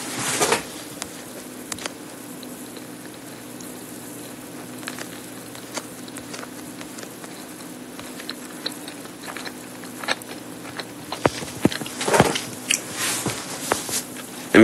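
Someone chewing food close up, with irregular soft wet crunches and clicks scattered over a quiet background and no talking.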